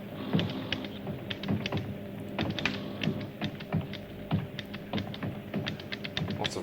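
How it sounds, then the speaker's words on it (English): Rapid clicking and tapping on spacecraft control panels, a steady stream of sharp, close taps with irregular rhythm over a low background hum, no voices. "Lots of clicking and tapping and..."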